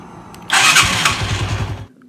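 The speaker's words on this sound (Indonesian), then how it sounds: "Start engine." A motorcycle engine catches and roars to life right after its starter dynamo has been repaired, a loud burst settling into a rough, throbbing idle for over a second before cutting off.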